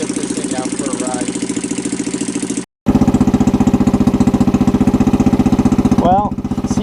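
A Kawasaki Bayou ATV with a Mikuni carburetor runs steadily close by, a loud, throbbing single-cylinder chug that cuts out briefly and then picks right back up, continuing without pause.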